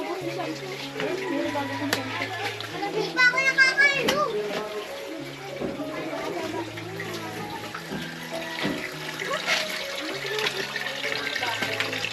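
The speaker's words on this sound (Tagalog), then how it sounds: "Mga bata naliligo." Water runs steadily while children bathe, splashing and flowing under a voice, with background music playing throughout.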